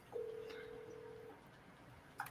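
A telephone keypad dialing out for a sales call, with one long steady tone followed by a short beep, faint over a quiet background with some low voice-like murmur.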